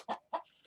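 A Barred Rock chicken gives two short clucks, close and fairly soft, followed by a faint higher note, with no talking.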